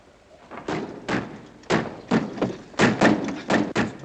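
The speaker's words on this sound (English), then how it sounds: "Dick, lock the door" A door is shut and locked in a 1950 World War II film set in the Philippines, heard as a quick run of close, heavy wooden thuds and knocks over a few seconds.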